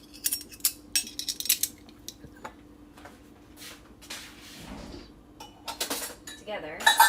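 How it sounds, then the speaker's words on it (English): Metal measuring spoons clink and rattle together in a string of short, bright taps as they are put away in a home kitchen, the clatter loudest at the start and again near the end. "we didn't actually use any of the measuring spoons,"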